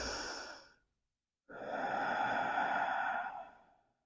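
Two long, deep breaths during a yoga flow, with a slow exhale fading out, a brief silent pause, then a fuller, louder inhale-exhale that swells and tapers off near the mat.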